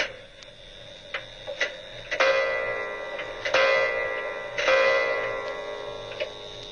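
An old clock found at the back of a cupboard ticks steadily with soft, regular clicks while bright ringing chimes strike several times over it. The clock sounds close and fairly clear, with no voices.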